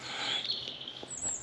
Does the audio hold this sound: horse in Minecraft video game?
no